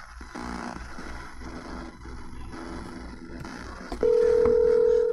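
A telephone line clicks and murmurs before a steady, loud dial tone cuts in near the end of a call being placed to a Punchline show staff member, over faint background noise.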